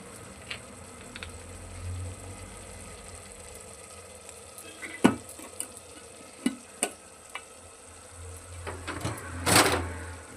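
Onion and tomatoes frying in a home kitchen pan with salt, a steady low sizzle broken by a few sharp clinks and scrapes of a utensil, with a louder burst of sizzling near the end.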